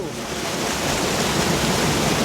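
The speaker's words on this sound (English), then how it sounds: "Hope you can hear me over the mighty Shivna River behind me." Rushing water of the Shimna River in Tollymore Forest Park, Newcastle, County Down, a loud continuous roar of fast-flowing current close by, steady and building slightly.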